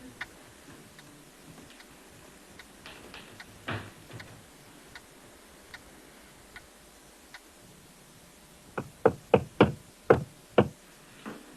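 Someone knocks on a door late at night in a children's horror story. A few faint, scattered taps come first, then a loud run of about eight sharp, close knocks in a steady rhythm near the end.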